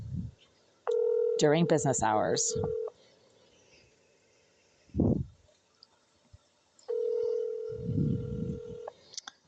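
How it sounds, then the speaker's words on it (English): A telephone call to the Greenville Group's office rings unanswered: two long, loud ringing tones separated by a pause, followed by a recorded greeting, with someone talking between the rings. "Let's see if they're actually going to answer their phone this time."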